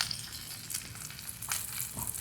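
Fish frying in hot oil: a dense, steady sizzle with occasional brighter crackles and soft scraping as the pieces are pushed to the edge of the pan.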